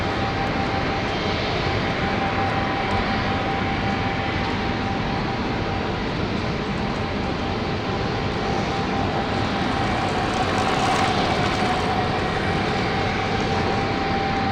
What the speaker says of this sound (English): They're very powerful aircraft.